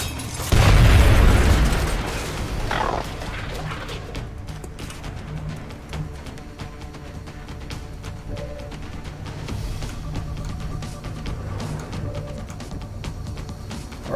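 A grenade blows up in XCOM: Enemy Unknown with a loud, deep boom that fades into a long rumbling tail of debris and low ambient game noise.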